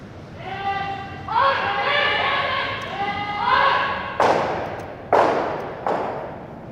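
Curling stones colliding on ice during a run back shot, with several sharp clacks and thuds in quick succession following a stretch of tonal rumble, while people talk and call out in the arena.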